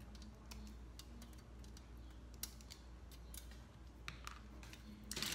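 Nippers snip a Gunpla model kit part off its plastic runner at the gate, a series of faint, sharp clicks and snaps scattered over quiet room tone, no speech.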